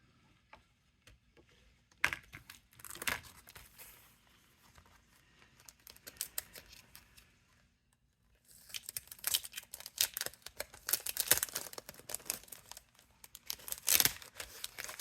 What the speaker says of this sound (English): I'm gonna tape it.